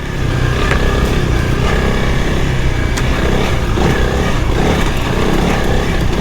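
A Honda 300 Rally motorcycle with upgraded suspension rides single track trail, its engine buzzing loudly and continuously close to the mic with constant rough variation and wind noise throughout.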